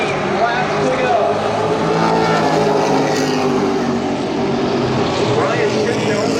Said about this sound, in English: Door to door, the Chevrolets enter turn 4.